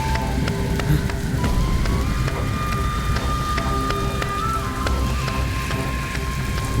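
Steady rain patters and hisses continuously at close range, with scattered drop impacts and a faint tonal hum running underneath.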